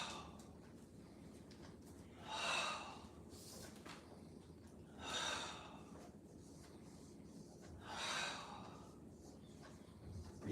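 Slow, soft exhalations during a qigong purging exercise, three breath-outs spaced a few seconds apart over a quiet room hum, with no talking.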